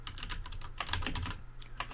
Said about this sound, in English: I'm just typing in the search bar for my free Discord server